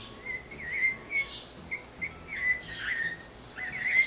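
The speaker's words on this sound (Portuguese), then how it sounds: "o sabiá-cica, ele é assim chamado por causa da sua vocalização, que se parece com o sabiá" Sabiá-cica parrot calling in a repeated series of clear whistled, thrush-like notes, moderately close, with brief pauses between phrases and no other sounds.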